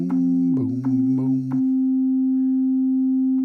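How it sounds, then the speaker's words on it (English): A synthesized pure sine tone on a C note from an iOS rotor-effect synth app wobbles and pulses briefly, then holds as a clean, steady, loud single pitch until the end. "That is a sine wave, plain and simple."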